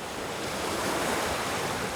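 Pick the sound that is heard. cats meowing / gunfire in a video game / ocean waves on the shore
ocean waves on the shore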